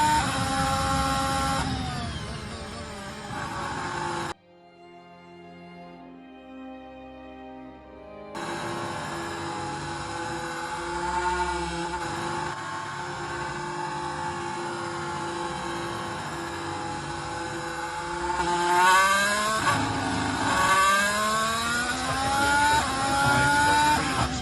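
Onboard a Formula 1 car driven by Valtteri Bottas after a tyre blows, a loud, buzzing engine note drops out to near silence for a few seconds, then returns with rising gear-change sweeps near the end.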